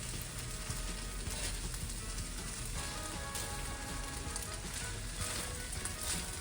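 Shrimp and basil fried rice sizzling steadily in a hot pan as it is tossed, a continuous crackling hiss with faint scraping, no voices.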